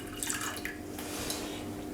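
Water is poured into a pan to make syrup, a short continuous splashing trickle heard close and moderately quiet, with no talking.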